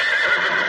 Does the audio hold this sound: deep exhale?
no